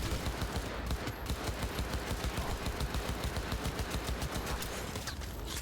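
Rapid automatic gunfire in a Cyberpunk 2077 firefight, dense bursts of shots in quick rhythm that fill the scene loudly and continuously, with brief gaps near the start and end.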